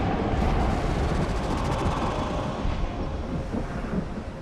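Thunder from a Harrow Storm in the Elder Scrolls Online video game, a loud sustained rumbling roar with windy noise that slowly fades, and no speech.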